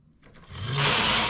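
A knitting machine carriage slides across the needles in one rising, rushing sweep, starting soft and swelling into a loud, close mechanical hiss and rattle.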